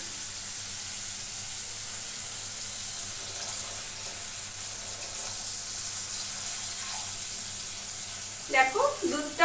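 Milk poured into a pan of hot oil in a home kitchen sizzles with a steady hiss throughout. A brief clatter of utensils comes at the end.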